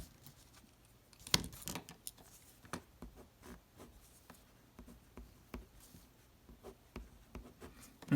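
Pen or marker scratches across a board while a chemistry diagram is drawn during a lecture, quiet intermittent strokes and taps in a hushed room with no talk.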